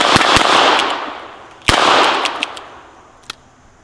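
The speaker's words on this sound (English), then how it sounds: "I'm just going to shoot at the burn barrel down there" Two sharp, close gunshots from a Smith & Wesson 617 .22lr ten-shot revolver fired outdoors at a burn barrel, each cracking then echoing away, followed by fainter clicks and a small distant pop.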